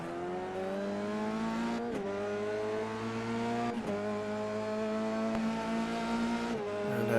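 F3 race cars in the iRacing video game, heard onboard through the loop section toward the Wellington straight: a loud, steady high-revving engine whine that climbs, dips briefly at gear shifts roughly every two seconds, then climbs again, with no talk.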